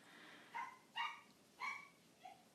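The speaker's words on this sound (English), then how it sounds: "My dogs are going crazy." Several dogs barking nearby, four short sharp barks spaced over a couple of seconds against a quiet indoor background.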